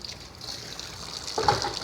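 Water runs steadily from a kitchen tap while a container that held soaking chicken is washed, a soft trickle that swells into a fuller splash near the end.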